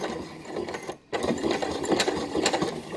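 A domestic sewing machine runs in a steady mechanical whir, backstitching in reverse over a fabric seam to lock it off. The stitching breaks off briefly near the one-second mark and then resumes. The piece is a fabric Easter basket.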